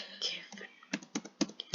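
A player's name is typed on a computer keyboard as a quick run of crisp, uneven key clicks, close and fairly loud. A soft whisper runs underneath them.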